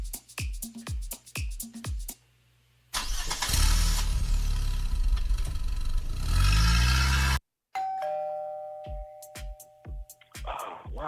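A car engine cranks and catches, roaring loudly for several seconds, framed by sharp clicks and short tones before and after.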